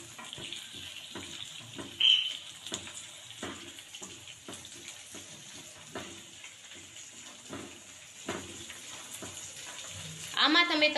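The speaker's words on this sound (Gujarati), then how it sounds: "વટાણા અને ગાજર આ બંને નાખીને 2 થી 3 મિનિટ સુધી હલાવવું।" Peas and carrots stirred in a pan, a steady soft scraping and sizzling with repeated strokes, close-up and fairly quiet.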